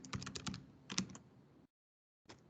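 Rapid keystrokes on a computer keyboard as commands are typed during troubleshooting, a dense burst of clicks followed by a short silence and then a few more keys, close and alone.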